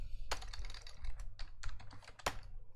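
Fingers type quickly on a computer keyboard to run a Control F search in a software manual, with a close, steady patter of clicking keystrokes and no talking.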